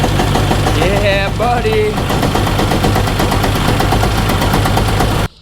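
A broken Sea-Doo XP jet ski engine fires up and runs, a loud, rough, rapidly pulsing knock close by, sustained for several seconds before cutting off abruptly, with a voice briefly exclaiming over it.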